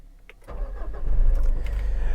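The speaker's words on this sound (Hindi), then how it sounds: "सबसे पहले इस गाड़ी को स्टार्ट कर लेते हैं।" The engine of a 2012 Mitsubishi Pajero Sport 4x4 with a manual gearbox and about 90,000 km on it cranks briefly and catches, then settles into a steady, close idle rumble.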